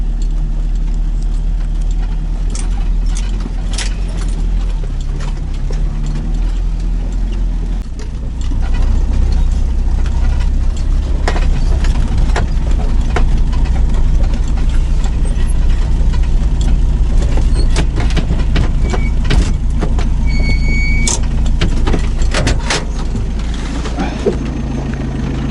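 Car engine droning steadily while driving along a rutted dirt track through the taiga, loud and close, with bumps and rattles over a constant low rumble that lifts slightly a few seconds in.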